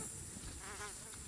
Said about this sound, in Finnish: Hänkin on ihmeessä, että kuinka paljon hyttysiä on.